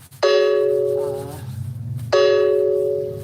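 A phone notification chime rings out twice, about two seconds apart, each a bright, clean tone that starts sharply and slowly fades, loud and close with a murmur of room sound between.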